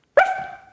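A person imitates a dog's bark with a single short, sharp, close vocal burst that tails off quickly.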